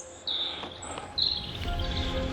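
A robin singing in spring woodland in the Vosges mountains, a few clear high whistled phrases at moderate distance, with a low rumble rising underneath.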